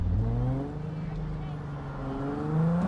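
A car engine accelerates in Cyberpunk 2077, a moderate rising engine tone that climbs in pitch, dips, and climbs again over about three seconds.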